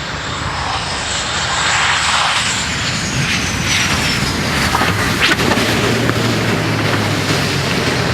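An F/A-18 jet making an arrested landing on Westfield Runway at Tinian Airport, heard as a loud, sustained jet engine roar with broadband rushing noise that stays powerful throughout.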